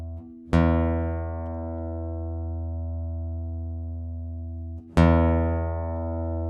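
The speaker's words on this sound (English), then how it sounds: "So here's our first note. This is an E. It's our 6th string." A guitar's sixth string is sounded as an open low E note, struck twice, each pluck ringing out loudly and sustaining for several seconds as it slowly decays, with no other sounds.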